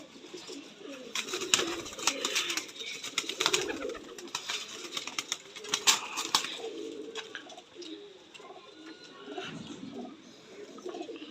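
Pigeons coo repeatedly in soft, throaty bursts, several birds close by in a loft of eleven pigeons, with scattered chirps and rustling noise throughout and no talk.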